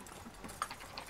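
Horse hooves clip-clopping in a video game, a few quick faint hoofbeats in an uneven rhythm as horses move fast.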